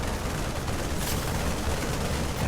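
Cannons fire in a video-game battle, a dense continuous roar of booms and gunfire with no clear gaps between shots.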